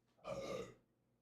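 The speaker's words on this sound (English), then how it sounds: "Did that burp come across?" A single burp rises during a live podcast, one soft, low, drawn-out belch lasting about half a second, faintly picked up with no talking over it.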